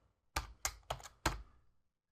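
Four distinct key presses on a computer keyboard while a line of code is entered, sharp clicks spaced roughly a third of a second apart, close and quiet with nothing else audible.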